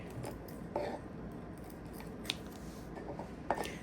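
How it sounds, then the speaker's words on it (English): Fresh rosemary sprigs snipped with scissors, a few short crisp cuts at irregular intervals over a faint steady room background, close and fairly quiet. "And this rosemary, I'm going to cut that."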